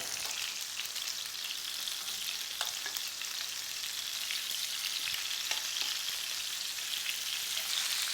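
Lamb breast and tomatoes fry in a pan, giving a steady, close sizzle with scattered crackles and pops and no talk.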